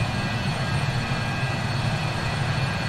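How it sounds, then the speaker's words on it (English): A BAE jetliner's engines roar steadily, a dense, continuous, loud rumble with a broad hiss on top, heard close and unbroken with no talk. "this thing sounds incredible for a jet"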